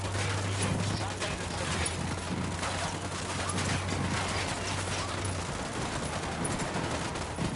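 Dense, rapid gunfire rattles on without letup in Ghost Recon Wildlands, played on PS5, with overlapping bursts under a constant busy background and a low steady tone through most of the stretch.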